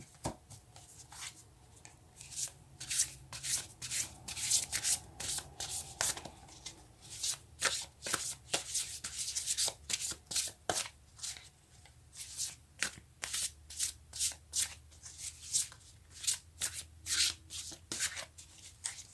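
Tarot cards shuffled by hand close up in quick rhythmic riffles and rubbing bursts, repeated steadily for the whole stretch, crisp and fairly loud with no talking.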